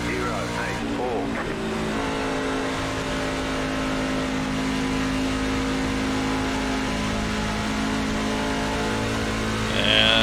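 NASCAR stock cars racing on track in iRacing at Atlanta, a steady layered engine drone at high revs with tire squeal near the end, under a commentator's voice.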